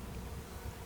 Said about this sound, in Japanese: 巣門を通過する蜂の数が増えてきて、巣門付近がだいぶ賑やかになってきました。